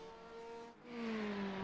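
A Porsche race car in an endurance race at Sonoma passes by, its engine tone climbing then dipping and surging again as it rushes past, fairly brief and fading at the end.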